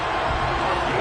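Home crowd cheering in a Madden NFL 23 football video game, a brief loud stadium roar of massed voices, steady and continuous for about a second.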